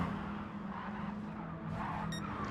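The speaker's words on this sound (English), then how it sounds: "He's trying to drift the Mini across the line." A Mini Cooper race car on a Tokyo street circuit slides sideways under handbrake, its engine droning steadily while tires squeal and scrub, ending in a brief high-pitched chirp.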